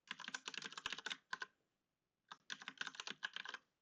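Rapid clicking keystrokes on a computer keyboard while typing code, two dense bursts separated by a brief pause, close and clear with no talking.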